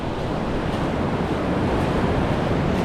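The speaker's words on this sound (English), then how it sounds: "the way the waves break, it's like a ballet dance of nature, watching the way they curl over and froth and bubble white" Ocean surf breaking on a beach along the Jurassic Coast, a steady broadband wash of rolling waves with wind noise on the microphone, continuous and fairly loud with no talk.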